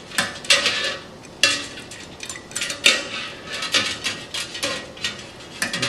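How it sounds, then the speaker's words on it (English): Metal spoon stirring ice into a liquid mixture in a container for a pressure law physics lab, giving repeated clinking scrapes and knocks in an uneven rhythm, close and fairly loud, with no talking. "The sound you hear is the sound of my stirring the mixture."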